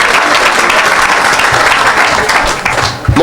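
A church congregation claps and cheers in acclaim of the Lord during a worship service, steady loud applause filling the room, with a voice briefly rising at the end.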